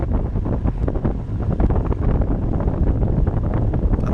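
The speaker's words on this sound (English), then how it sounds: "We're going into the wind" Wind buffeting a cyclist's microphone during an easy group road ride into a headwind, a loud, continuous rumbling roar with gusty fluctuations and no talk.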